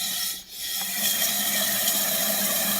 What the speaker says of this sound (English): we're just literally gonna blast it with air in here